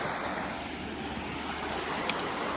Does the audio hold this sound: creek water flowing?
yes